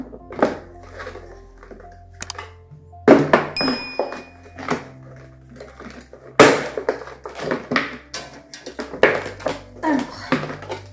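Sturdy plastic security block on a camera being pulled hard to open it, giving a series of dull thunks, creaks and sharp cracks in uneven bursts, close and fairly loud over a low background hum.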